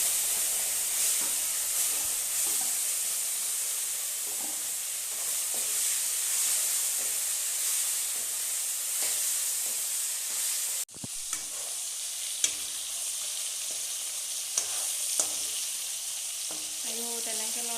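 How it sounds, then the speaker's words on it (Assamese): Bay leaves frying in hot oil at the start of a pork curry, a steady close sizzle and hiss with faint stirring clinks, a brief knock partway through, and no talk. "তেলতে প্ৰথমতে তেজপাত দি এতিয়া মই অকণমান আৰম্ভ কৰি লৈছোঁ"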